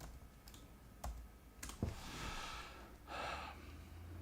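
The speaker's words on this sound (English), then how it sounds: "Typing in label." A few sparse keystrokes clicking on a computer keyboard, spaced irregularly over a steady low room hum, with a soft breathy rush of noise in between.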